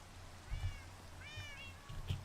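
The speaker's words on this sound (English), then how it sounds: "Well, hello there, cats." Cats in a modded Minecraft game let out several quiet, thin meows, two or three calls spaced out over a couple of seconds, with soft low thumps underneath.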